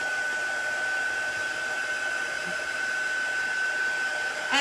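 Hair dryer blowing over a chalk paste transfer on a craft piece, a steady close whooshing hum held throughout with little change.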